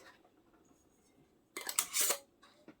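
Glass canning jars with new metal lids and rings set down into a pressure canner, a brief burst of clinking and scraping midway after quiet room tone.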